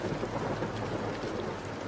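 Heavy rain pours steadily with a broad, dense hiss and low rumbling wind, constant and fairly close throughout, with no voices.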